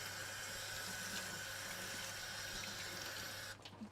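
A rag held under running tap water and wrung out during benchtop work, a steady faint water flow hiss that stops abruptly near the end with a few drips and handling sounds.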